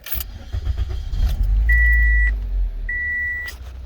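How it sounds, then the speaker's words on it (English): A 2005 Toyota Corolla with a failed air conditioner starts on a hot evening: a cranking burst settles into a low, steady idle rumble, with two sustained electronic chime tones sounding over it. "let's go ahead and fire up the engine"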